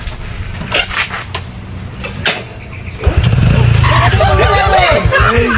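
A motorcycle engine kicks into life after a few seconds of low rumbling, then runs loud and steady, close by with a mechanic present. Voices and background chatter are heard throughout.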